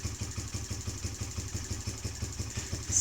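A Kawasaki KFX50 ATV engine idling with the idle screw turned fully in, a steady, close low putter with an even rapid pulse throughout.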